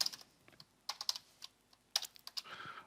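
Quick bursts of keystrokes on a computer keyboard while entering settings for a web data grid, close and fairly quiet, with short pauses between clusters of taps.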